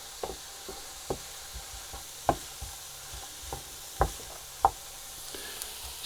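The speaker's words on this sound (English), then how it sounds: "Keep stirring around. Make sure everything gets sautéed, not fried, softened." A spoon knocks and scrapes around a pan of sausage casserole vegetables softening over the heat, irregular clacks over a steady soft sizzle, close up and without talk.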